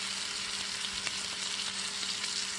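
Chuck roast searing in butter in a hot pan gives off a loud, steady broadband sizzle with small crackles and pops throughout, and no one talks over it.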